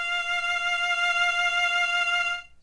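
A lone violin sounding a sustained F note, fingered right beside the E, held evenly at moderate volume for about two and a half seconds before stopping cleanly.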